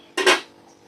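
Spoon scraping and clinking against a plate while serving freshly cooked pointed gourd curry, a single sharp metallic clatter that quickly fades.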